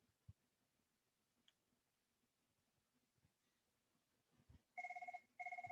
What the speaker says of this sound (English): kind of weird to be having my phone ringing in my office